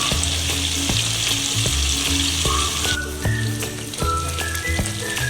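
Loud, steady sizzling and frying of mung beans tipped into a pan of cooked tomato and onion for Rajasthani moong sabzi, with scraping stirs and intermittent clatter throughout.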